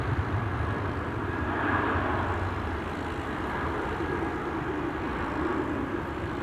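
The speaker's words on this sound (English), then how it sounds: "Swiss has just begun rolling, so that's going to take off first" A Swiss airliner, bound for Zurich, on its takeoff roll at Amsterdam Schiphol Airport: a loud, sustained broadband jet roar, steady throughout and heard from a moderate distance, with no voices over it.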